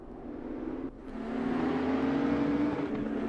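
Engine note of a race car in a PHSR Widowmaker Series racing video game crossing the finish line, a steady, rising whine that swells louder partway through with no talk over it.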